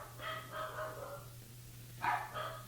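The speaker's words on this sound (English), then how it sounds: "Oh, I must have gotten a package because my dogs are going crazy." Dogs bark at a package delivery at home, a few sharp barks in two short bursts, heard somewhat distant against a steady background hum.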